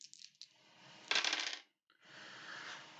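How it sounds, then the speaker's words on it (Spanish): Dice rolled for tabletop Dungeons & Dragons character creation, a bright rattling clatter of several dice tumbling and settling, with a short burst, a brief pause, then more rolling, close and clear. "Tengo solo 3 dados, así que voy a tirar uno más."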